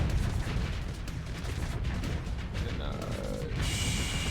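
Sabot weapons firing in a combat video game, a dense continuous barrage of booming, crackling blasts that stays loud throughout with no voice over it.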